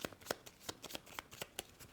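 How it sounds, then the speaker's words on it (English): Cards for the Stellarion board game being shuffled by hand, a close series of crisp, sharp riffling snaps and soft slides in an uneven rhythm, with no talk. "Here we shuffle"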